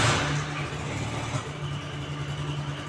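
A car engine revs as the gas pedal is pressed, a steady mid-pitched running drone that holds fairly loud and close throughout, with no clear voices over it.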